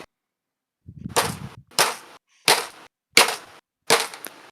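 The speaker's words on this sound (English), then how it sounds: "Continuous shots are fired." Five sharp gunshots ring out one by one at regular intervals of under a second in a tank battle show, each loud and close with a short decaying tail.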